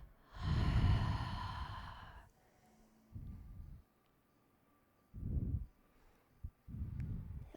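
A long open-mouth exhale during a yoga session, followed by several shorter, softer breaths in and out. Quiet and close with no talking.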